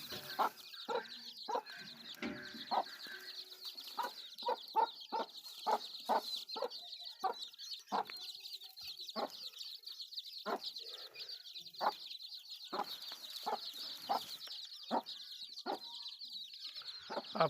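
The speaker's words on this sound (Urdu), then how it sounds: "چوزے ہمارے باہر نکل چکے ہیں دوست مرغی کے ساتھ" A hen clucks repeatedly among her peeping chicks, short evenly spaced clucks throughout with a constant high chorus of chick cheeping, close and moderately quiet in an otherwise still setting.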